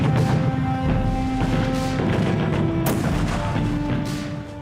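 WWII battle gunfire and heavy booms at Gold Beach during the British landing, with repeated sharp blasts and a rolling barrage that stays loud and dense before easing slightly.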